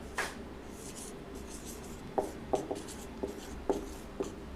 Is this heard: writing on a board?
yes